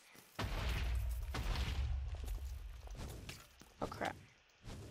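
Explosions go off in a Minecraft multiplayer rivalry match, a couple of heavy booms in quick succession followed by smaller bursts and clatter, fairly close and loud.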